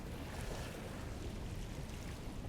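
Ocean waves surging in over a rocky shore, a constant dense wash of rushing water with wind buffeting the microphone, loud and close, no voices.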